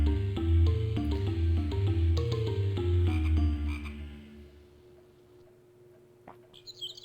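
Frogs croaking in the video game Zoombinis, a run of rhythmic deep tonal croaks that fade out, followed by a quiet stretch with a few small chirps and clicks.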